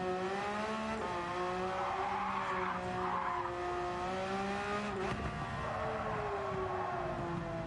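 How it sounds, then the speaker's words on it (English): Car in Gran Turismo 7 sliding into a drift with tires that are neither worn nor overheating, warbling engine note and continuous tire squeal and skidding throughout, close and loud, no talk. "So why does the car suddenly decide it wants to drift?"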